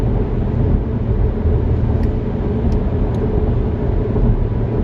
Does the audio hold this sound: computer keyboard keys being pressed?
no